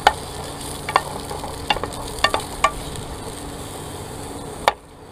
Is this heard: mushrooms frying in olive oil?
yes